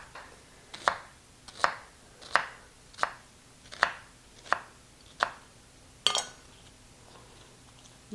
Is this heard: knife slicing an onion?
yes